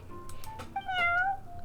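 The cat Prince in Genshin Impact gives a clear, rising-then-falling meow, with a few soft taps just before it, heard alone at moderate volume.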